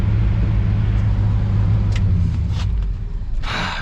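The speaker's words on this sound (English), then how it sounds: "This truck." A truck engine idles with a steady low rumble close by, holding even throughout and easing slightly near the end, with a few faint clanks over it.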